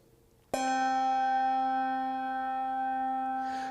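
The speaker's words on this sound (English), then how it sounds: "This is kind of like a medium big bell. It's a C note." A medium-sized bronze bell tuned to C is struck once, ringing out with a sharp attack and a long, clear, sustained tone that barely fades, heard alone in a quiet room.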